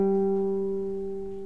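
A single sustained guitar note fretted at the 5th fret of the D string in a blues lesson, ringing steadily and slowly decaying, close and fairly quiet with no voice over it.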